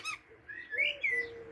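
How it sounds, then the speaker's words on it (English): A blackbird sings nearby in a short phrase of clear, fluting whistled notes rising and falling, with a brief chirp at the start, heard alone against a quiet outdoor background. "Mr. Blackbird has come to join us."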